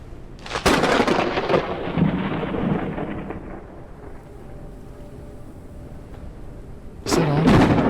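Thunder from lightning in the survival game The Forever Skies cracks sharply, then rumbles and rolls away into low noise before another loud crash breaks near the end.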